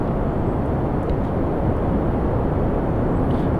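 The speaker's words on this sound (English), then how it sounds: "Has a lot of thrust, boosting this badass thing into orbit." Giant rocket boosters roaring during a launch to orbit in Kerbal Space Program, a loud, steady, dense rumble of thrust that fills the whole stretch without letup.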